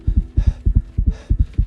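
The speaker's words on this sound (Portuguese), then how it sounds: "batimentos cardíacos aceleram" A racing heartbeat, deep paired thumps pulsing quickly and evenly, loud and close, with a faint breathy hum between beats.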